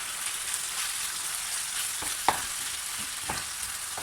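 Vegetables and spices get stirred in a frying pan, a soft steady sizzle broken by a few scraping knocks of the utensil against the pan, with no talking.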